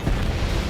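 A missile launching from a fighter jet in Ace Combat 7 gives a brief, dense, roaring whoosh with heavy low rumble, loud and continuous for under a second.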